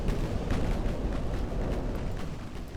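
Naval guns firing high-explosive shells in the Ultimate Admiral: Dreadnoughts warship game, a dense continuous rumble of overlapping distant booms with no clear gaps, heavy and sustained throughout.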